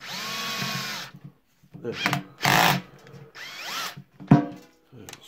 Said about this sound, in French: Donc avec la fameuse perceuse que vous avez déjà pu voir dans la vidéo.